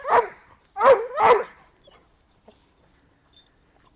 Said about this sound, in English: He'll normally bark and bark